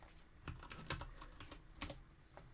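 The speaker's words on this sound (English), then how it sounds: "I'm typing one-handed while holding my notebook." Someone types one-handed on a computer keyboard during a Type Help game session, producing irregular soft key clicks with a few sharper taps. The sound is close but faint, with no talking.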